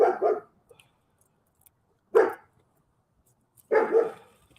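Dogs bark in three separate short bursts spaced a second or two apart, fairly close and loud against a quiet background, with no talking.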